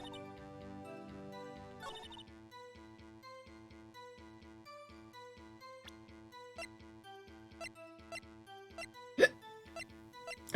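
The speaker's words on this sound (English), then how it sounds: "That was a loud hiccup" A single loud, sharp hiccup in the Ace Attorney game cuts through quiet, tinkly background music near the end, after a run of soft plinking game sounds.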